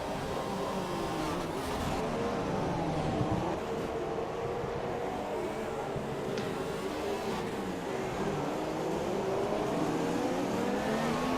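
Race cars in F1 2017, a PS4 racing game, on the Abu Dhabi circuit, engines screaming steadily and loudly throughout with shifting pitch as cars pass, no talk.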